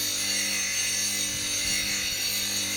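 Turning gouge with an asymmetric grind being sharpened at the nose of its primary bevel on a grinding wheel, a quiet, continuous scraping hiss as the steel is rubbed back and forth.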